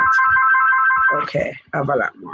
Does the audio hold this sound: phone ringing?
yes